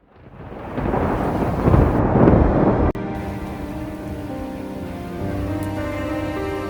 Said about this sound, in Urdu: ایک زوردار دھماکے کے ساتھ آسمانی بجلی چمک اٹھتی ہے